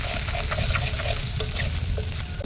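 Whole garam masala spices fry for khichuri in hot oil, giving a loud, steady sizzle with crackles and the scrape of stirring close by.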